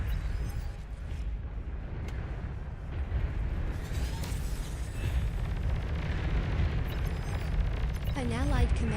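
Commander unit blowing up in the real-time strategy game Beyond All Reason, a dense rumbling blast layered over ongoing battle noise and voices, with rising chirping tones near the end.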